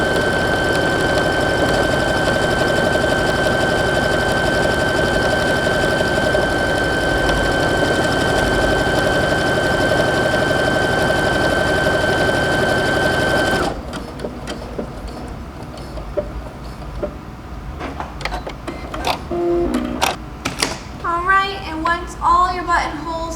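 A sewing machine stitches a buttonhole on a dress, a steady loud mechanical whir that runs continuously, then stops abruptly, leaving light handling noises and a voice.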